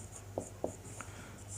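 Pen or chalk strokes as a teacher writes a word: a few short, faint scratchy taps spread over a second and a half against a quiet steady hum.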